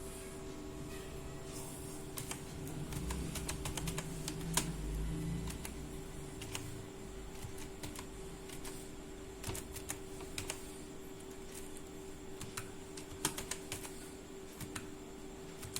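Quiet clicking keystrokes on a computer keyboard, in sparse irregular taps, some in quick clusters, heard faintly over a steady electrical hum with no talking.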